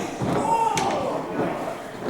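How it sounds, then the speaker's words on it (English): A wrestler's stomp thuds once on the canvas in a wrestling ring, a short loud impact standing out amid continuous commentary and crowd noise. "Oh, there's a stomp."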